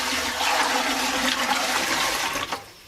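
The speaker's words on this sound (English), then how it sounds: "For now, I want to do some flushes to see if my sewer line really is solid and leak proof." A Toto toilet flushes close by in a home with a septic system, a loud rushing gurgle of water that swirls for a couple of seconds, then drains and tapers off near the end.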